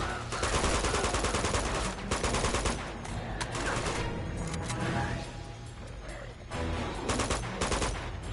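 Rapid bursts of gunfire from Uncharted 2 crackle through an extended firefight, with dense volleys of shots and brief lulls, loud and close throughout.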